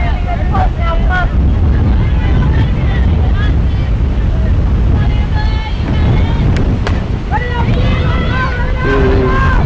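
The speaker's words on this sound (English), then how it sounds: "You can tell that that wind is blowing up that way" Strong wind buffets the microphone with a loud, constant roar at an outdoor high school softball game, while voices and brief chirps come through underneath.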